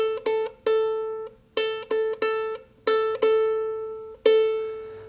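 Repeated plucks of a ukulele's open A string ring out alone, about nine clear bright notes in an uneven rhythm, each decaying before the next, close and moderately loud.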